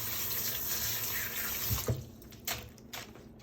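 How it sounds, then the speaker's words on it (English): Tap water runs steadily into a sink during hand washing in a kitchen where meats are being prepared, then breaks off into a few short splashes and drips after the flow stops. "Let me wash my hands again."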